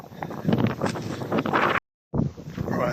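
Gusty wind buffets the microphone out in the open at a riverside marsh nature park, a steady roaring rush with a brief drop to silence partway through.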